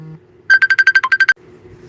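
A phone ringtone sounds for an incoming call, a quick run of about ten bright, evenly spaced electronic beeps, loud and close, with a low hum before and after.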